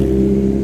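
A loud car with an unmuffled exhaust revving as it passes along a bar street in Kato Paphos, Cyprus, giving a steady, close, droning engine roar throughout.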